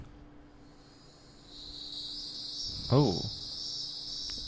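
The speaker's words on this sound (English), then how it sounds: "Hieroglyphic cicada." Recorded call of a hieroglyphic cicada, a steady high-pitched buzzing drone that starts faintly and holds loud to the end, with a brief startled voice exclaiming partway through.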